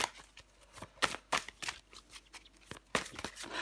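Tarot cards are shuffled in quick irregular riffles and slaps, crisp close bursts repeating over a few seconds with no voice.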